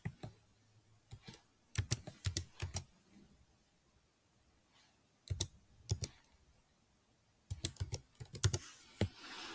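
Keys clatter on a computer keyboard as a CNIC number is entered into an LLP registration form in Pakistan, coming in quick bursts of clicks separated by pauses.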